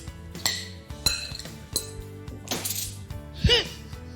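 Diced pumpkin tossed and mixed in a dish for a roasted jerk pumpkin and bean dip, giving a series of sharp clinks and clatters of pieces striking the dish, with a louder scraping toss near the end.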